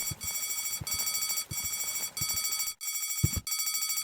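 A ringing alarm in the Deponia adventure game, a loud, close electronic bell that rings in rapid bursts with short regular gaps and one brief pause, accompanied by soft thumps.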